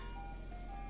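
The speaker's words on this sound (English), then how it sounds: "Still a ice cream truck out here" An ice cream truck outside playing its jingle, a faint, distant melodic chime of thin sustained tones over a low background rumble.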